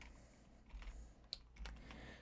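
A few scattered, faint keystrokes on a computer keyboard as numbers are entered, soft taps over a low background hum with no talking.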